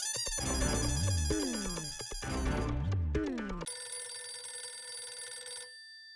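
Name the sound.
telephone ringing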